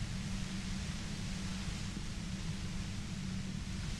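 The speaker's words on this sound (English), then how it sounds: "You hear through the white noise. It's especially bad suddenly." A flat, constant wash of white noise from the game Disco Elysium plays quietly, even and unbroken, with a low humming layer beneath it.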